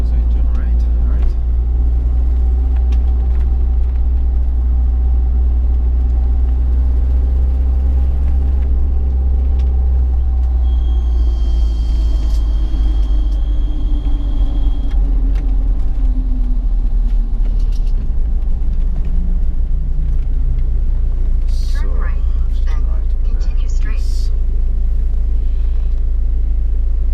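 The engine of a 1995 Isuzu Elf camper van drones steadily with a loud low rumble during a test drive in Japan, its pitch shifting gently as it runs, with people talking inside the cab throughout.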